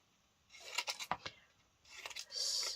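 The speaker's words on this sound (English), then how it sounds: "let's just randomly cut these bits up and just see where we go from there" Scissors snip through fabric scraps in quick close crisp cuts, a cluster of sharp snips followed by a pause and a second burst of cutting.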